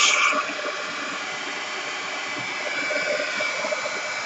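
A hair dryer blasts at an art journal to dry wet paint, a steady close airy roar with a hissing whine that holds at an even level throughout, following a brief louder start.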